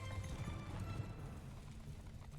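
A horse runs in Mount & Blade II: Bannerlord, its hooves beating a quick, faint, continuous clip-clop rhythm.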